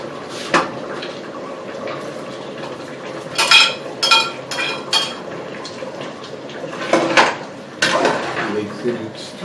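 Bitter leaf being mixed in a pot for Edo Esan black soup, with repeated clattering, scraping bursts of a utensil against the pot and a voice faintly present.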